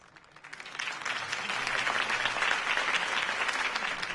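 Crowd applause in the Batman Telltale game after a campaign speech, rising from a quiet start into a dense, steady wash of clapping that holds loud to the end.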